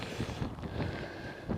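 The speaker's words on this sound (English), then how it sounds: "I feel a strong bit of a wind in my back" Strong wind gusting on an outdoor walking trail during a barefoot walk, a steady rough rush with uneven low buffeting against the microphone, fairly loud and alone with no voices.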